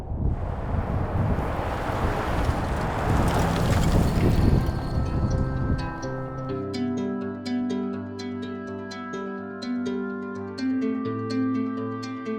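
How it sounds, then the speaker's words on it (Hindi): Steady wind rushing past the microphone high in the mountains near Kee Monastery, loud and broadband at first, then easing into a quieter background as tonal sounds with sharp clicks take over. "हवा के अलावा किसी चीज़ की आवाज़ नहीं"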